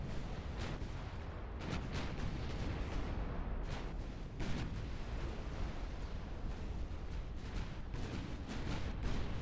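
Battleships fire their artillery in a naval strategy game set in a US campaign, a long barrage of overlapping booms and sharp blasts rolling on without pause at moderate loudness.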